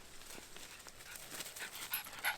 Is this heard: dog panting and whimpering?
yes